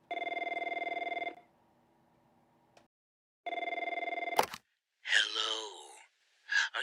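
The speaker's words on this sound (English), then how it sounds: "I think I hear the phone ringing" A telephone bell rings loudly in two clear bursts separated by a pause, each a steady electronic trill, followed by breathy gasping vocal sounds and short voice bursts.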